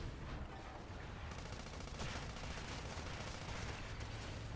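Rapid gunfire in the video game Sand Land rattles as quiet, dense bursts that keep going steadily throughout, with no speech.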